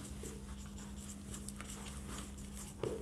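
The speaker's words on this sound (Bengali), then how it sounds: "আমি একটু লিখে দিচ্ছি।" A pen writes by hand in a classroom-style maths lesson, with faint close scratchy strokes over a steady low hum and no talk.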